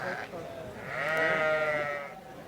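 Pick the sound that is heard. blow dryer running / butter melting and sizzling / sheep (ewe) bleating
sheep (ewe) bleating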